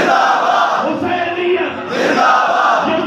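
A large mosque congregation at a Shia majlis chants a slogan in unison, loud and sustained voices swelling in repeated waves that fill the hall.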